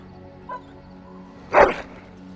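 Dog in the Dragon Age Origins game giving a brief, fairly faint bark with a small yip just before it, heard over a quiet game background hum.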